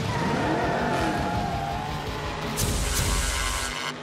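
Cars race flat out, with loud engines droning and shifting pitch close by and tires squealing and skidding throughout a continuous high-speed run.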